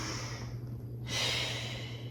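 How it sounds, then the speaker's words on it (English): A single deep breath during a Pilates mat class, an airy breathy inhale giving way to a broader exhale, close and fairly quiet over a steady low hum. "deep breath here"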